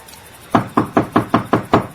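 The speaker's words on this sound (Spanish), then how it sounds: "Llamó a la puerta de la calle" Seven firm knocks on a street door land in a quick, even rhythm, loud and close, with no voices over them.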